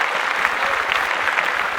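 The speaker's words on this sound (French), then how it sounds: "On applaudit encore plus fort pour UAM." A debate audience claps loudly and steadily, a dense burst of applause filling the whole short stretch with no talk over it.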